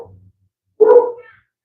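One short, sharp bark from a pet dog indoors, fairly close and loud, sounds after a faint low murmur, then the clip falls quiet.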